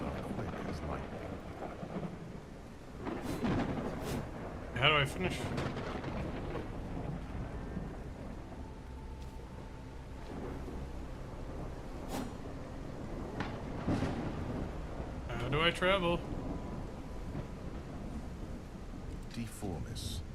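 A video game thunderstorm with rain gives a steady wash of rainfall broken by several sharp cracks and rumbles of thunder, while a person talks over it.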